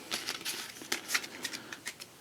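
Eldritch Horror board game cards being shuffled by hand, a quick run of close, crisp riffling bursts repeating in an uneven rhythm with no talking.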